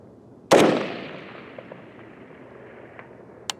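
A single loud, close shot from an M16A2 service rifle, with a crack that decays into a long outdoor echo. A couple of faint distant pops follow, then a short sharp tick near the end.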